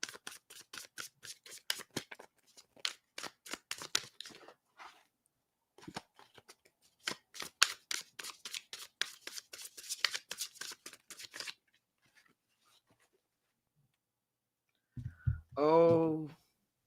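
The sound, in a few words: shuffling tarot cards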